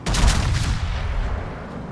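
Battleship main guns firing in World of Warships, a loud booming salvo with a heavy low rumble that decays over about two seconds, with no talking.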